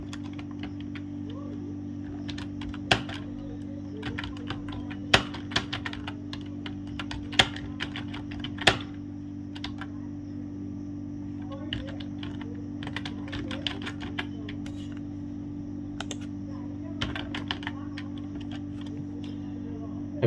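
Irregular bursts of crisp clicks from typing text into PowerPoint on a computer keyboard, a steady low hum beneath, with occasional sharper key strikes spaced through the passage.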